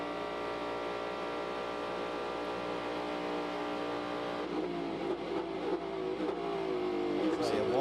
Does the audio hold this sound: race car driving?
yes